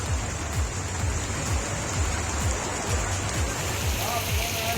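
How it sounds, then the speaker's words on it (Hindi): Heavy rain pours down in Kanpur as a dense, steady hiss of drops hitting the surface, loud and continuous, with low thumping noise underneath and a person talking over it. "कानपुर से देखिए आप, कितनी जोरदार बारिश हुई है यहाँ पर"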